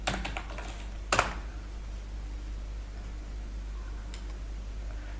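Computer keyboard typing for a Red Hat download search: a quick flurry of faint keystrokes, then one sharper clack and a lone later tap over a steady low hum, with no speech.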